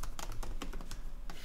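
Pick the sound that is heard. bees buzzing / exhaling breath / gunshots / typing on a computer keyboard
typing on a computer keyboard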